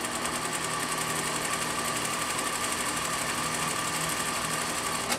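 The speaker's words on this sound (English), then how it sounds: "Because what happens is the machine feeds the hair." Continuous whirring drone of a sewing machine stitching hair extensions, steady and close with a constant mechanical hum and fine rapid rattle throughout, no talking.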